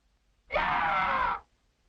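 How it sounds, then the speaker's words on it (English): A single piercing human yell meant to scare off a bear in the Alaskan wilderness, loud and close, held for about a second against near silence. "Your piercing yell breaks the silence"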